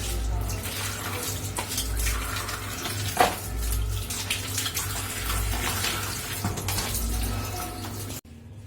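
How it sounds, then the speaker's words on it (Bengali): Water splashing and running steadily across an outdoor courtyard floor as it is washed down, a continuous wet wash with a brief sharper splash midway, under a low steady hum. "বাইরের চকটা একটু ধুয়ে নিচ্ছি"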